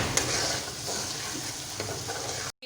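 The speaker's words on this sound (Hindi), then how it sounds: "यहाँ पे अदरक लहसुन हमारा हल्का सा फ्राइड हो चुका है" Ginger garlic paste frying in a pan for mutton Shinwari karahi gives off a steady, close sizzle with light stirring scrapes, then cuts off abruptly near the end.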